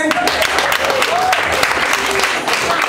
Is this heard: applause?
yes